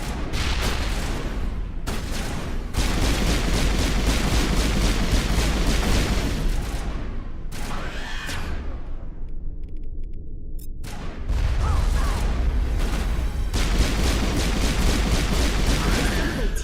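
Grenade blasts and rapid gunfire from a Mass Effect firefight, loud and dense bursts of shots and booms nearly throughout, with a brief lull in the middle before the barrage resumes.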